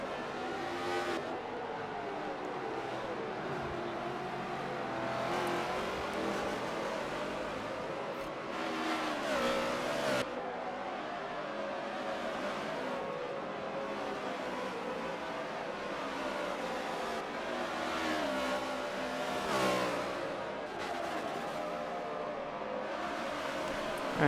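NASCAR stock cars race at Sonoma in a racing video game, giving a steady, dense engine roar that swells as cars pass and fades again, with no voices.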